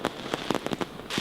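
Fireworks at independence celebrations in Donetsk and Luhansk, Ukraine, heard as a quick cluster of crackling pops and bangs with a rumbling tail, carried over a TV broadcast.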